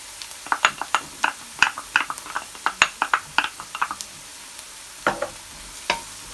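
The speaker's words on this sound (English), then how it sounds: "So now I'm just gonna add in my garlic." Shrimp sizzling in a pot as chopped garlic is added for Jamaican peppered shrimp, with a steady frying hiss and a run of sharp close scraping and stirring clicks, some irregular and some in quick bursts.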